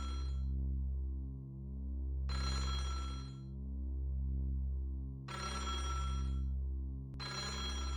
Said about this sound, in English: multiple phones begin to ring.